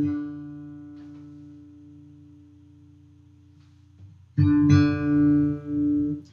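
A guitar string tuned against another at the fifth fret rings with a slow wobbling beat as the pitches near each other, sustained alone, then a fresh louder pluck rings out with a pulsing swell.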